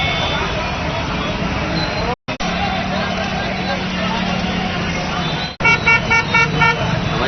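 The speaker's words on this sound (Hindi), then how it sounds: "ट्रैफिक जाम का ये नज़ारा गढ़ा गंगासागर इमरती तालाब के पास का है।" A traffic jam beside a pond lined with fruit and vegetable stalls and food carts, with a car horn held long amid steady engine rumble and street babble, followed by short repeated toots near the end.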